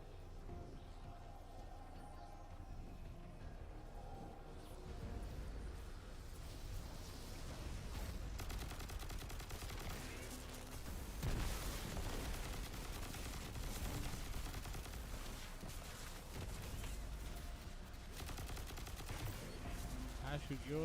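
Steady rapid gunfire from a Destiny 2 firefight, automatic bursts and scattered shots running continuously at moderate level while players chat over the top.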